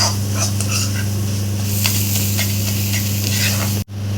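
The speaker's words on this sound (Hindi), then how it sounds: "अच्छे से फ्राई कर लेंगे सभी मसालों के साथ।" Masala spices frying in a pan for a quick chicken egg curry, a steady close sizzle with scraping stir strokes running throughout before a brief dropout near the end.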